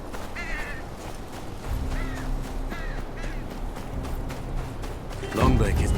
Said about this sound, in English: Crows don't just circle around any old thing.